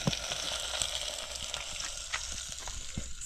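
Onions and tomatoes fry in a pan with a steady, close sizzle and soft crackling pops, no voices over it.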